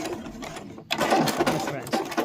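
A sewing machine stitches a mini boxed pouch in a fast, continuous whirring run, briefly stopping before starting again and running steadily, with talk over it.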